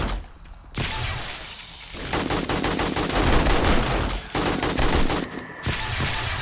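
Dense, rapid gunfire from weapons in the zombie survival game 7 Days to Die, loud sustained bursts with a brief pause midway, no talking over it.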